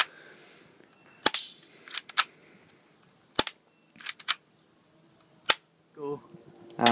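A Cybergun SIG Sauer P226 airsoft pistol fires at a target at short range, several sharp, loud cracks spaced irregularly, with faint thuds and a brief voice near the end.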